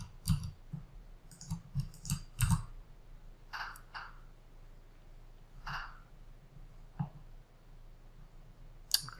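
Mouse clicks on an add button in a web app, a scattering of sharp, quiet ticks in loose clusters with some faint taps, close and otherwise quiet.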